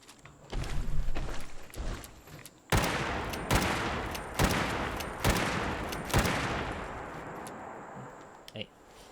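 Gunfire from a gun in Fallout 76, with a quick rattle of shots, then several loud, separate bangs spaced about a second apart, each trailing off, before a quieter tail.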